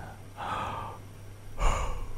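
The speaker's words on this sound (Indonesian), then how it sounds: "dari tadi aku nguap terus tau" A person yawning up close, with a long breathy intake followed by a second, heavier, sighing exhale.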